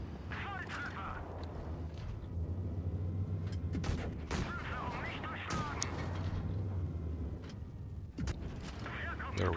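Tank gun blasts from a tank video game, several sharp booming shots and bursts of gunfire scattered through a steady, dense battle din, with someone talking over much of it.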